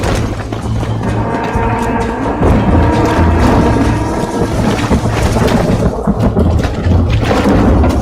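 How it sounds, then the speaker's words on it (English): Thunderstorm in the game Red Dead Redemption: a loud, continuous rumble of thunder and rain with low booming swells, with game music or ambience mixed underneath. "The storm's getting worse."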